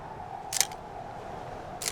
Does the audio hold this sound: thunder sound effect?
no